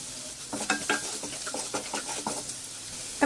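A pinch of asafoetida drops into a hot pan of turmeric and Kashmiri red chili powder for a besan curry, giving a steady sizzle with scraping stirring strokes throughout.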